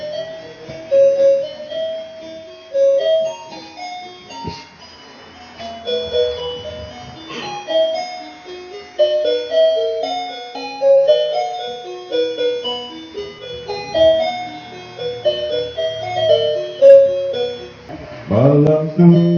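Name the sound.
children's toy playing the melody of Silent Night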